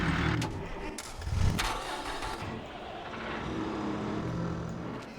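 A tractor engine in the farming game Farming Simulator 22 cranks and catches with a rough burst, then settles into a continuous rumbling idle, with no talk.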